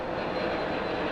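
JetBlue jet airliner at Los Angeles International Airport producing a steady, broad engine roar, moderately loud and unbroken with no voices over it.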